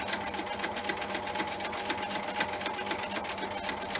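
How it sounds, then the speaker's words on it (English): A sewing machine runs steadily for free-motion stitching with the feed dogs down, its needle chattering in a fast, even, continuous rhythm, close and fairly loud, while fabric paper is stitched for a card. "you've got control of the machine, the feed dogs are down, so it will go wherever you want it to go"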